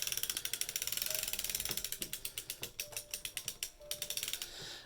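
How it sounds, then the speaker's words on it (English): A hand-cranked sock knitting machine runs up close, giving a rapid, even train of mechanical clicks and ratcheting ticks that speeds and slows slightly as the carriage turns, with no talking. "I used to be able to just stick a nickel under my little cam to make the machine quieter"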